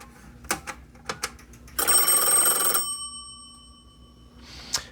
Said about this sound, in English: So I have batches of phones ringing.